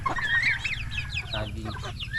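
Turkeys feeding on ripe bananas give close, soft clucks and chirpy calls over a low rumble.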